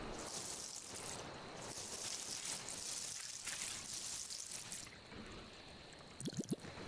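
Water trickling and splashing as a watering can is filled straight from a rice paddy in the video game Dinkum, a steady soft wash with a few brief squishy splashes near the end.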